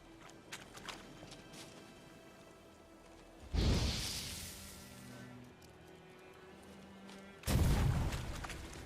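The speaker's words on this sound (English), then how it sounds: "I fucking knew that was gonna blow up." Two loud explosions in The Witcher 3, each a sudden booming burst that decays over a few seconds, separated by quieter ambient game sound.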